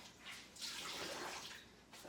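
Warm water splashes and runs over bricks as they are wetted and scrubbed down before painting, a soft, steady hissing wash heard up close and alone.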